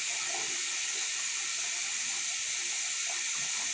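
Hot water running steadily from a tap, a constant broad hissing rush with no talking.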